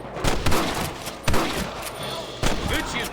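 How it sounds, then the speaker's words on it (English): Gunfire in Red Dead Redemption, with several sharp gunshots cracking at irregular intervals over a busy in-game background of clatter and faint voices, loud and close. "Good shooting, Marston."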